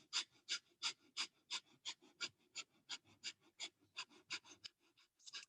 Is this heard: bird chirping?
no